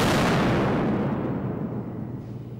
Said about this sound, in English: They started with army-issue stun grenade. Not loud enough, so let's hear what twice that decibel level does.